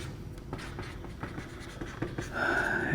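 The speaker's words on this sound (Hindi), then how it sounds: "तो क्वेश्चन लिखते हैं" A pen scratches out a maths question on paper, with short irregular strokes close by and a faint tonal hum rising in the last moment.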